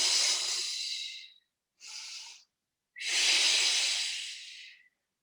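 Deep, forceful breaths during a Pilates exercise for osteoporosis: a long airy exhale, a short breath in, then another long drawn-out exhale, close and loud with silence between.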